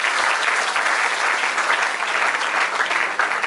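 Congregation applauding in a church service, a dense, steady wash of many hands clapping at close range that continues throughout without pause.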